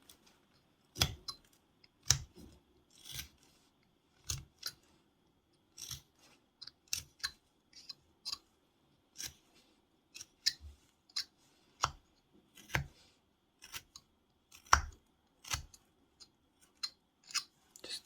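Knife carving a V-shaped notch into a small wooden ghost figure, a series of crisp, separate cutting and snapping strokes at an irregular pace, close and fairly quiet, with no talking.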